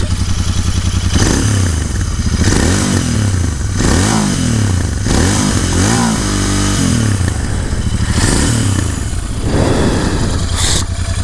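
A Royal Enfield Interceptor 650 twin engine idles close by and is blipped repeatedly, each throttle burst rising and falling in a steady rhythm with a brief clatter near the end; no one speaks.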